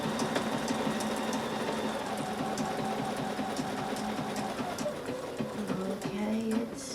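A domestic sewing machine runs steadily through a decorative crab stitch on a quilt, its fast even needle chatter close and continuous for several seconds, with the whirring pitch shifting slightly near the end.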